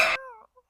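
A cat gives a single short meow, close and clear, followed by faint small noises and near silence.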